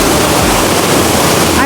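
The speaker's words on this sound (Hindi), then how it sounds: "एक वाटरफॉल है। ये देखें प्यारी सी, जो कि ऊपर पहाड़ के बीच में से ये पानी गिर रहा है।" Waterfall in a Swiss mountain canyon, its water falling from high between the rocks in a loud, steady, full roar that fills the whole space, close by and unbroken.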